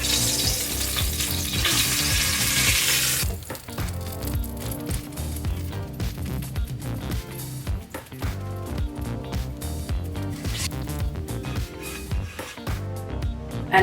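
Tuna steak searing on both sides in a pan over high heat, a dense continuous sizzle with a brighter hiss burst at the start, then steady crackling and spitting, close and loud with no talk.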